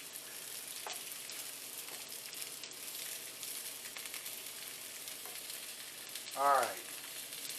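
Zucchini frying in a pan in a home kitchen, a steady soft sizzle running throughout with a brief louder spit or scrape near the end and a short spoken word early on.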